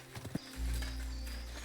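Hooves clip-clop briefly in a video game, Kingdom Come Deliverance II, as a horse rides off-trail through a forest, followed by a low steady rumble; the sound is faint and no one speaks.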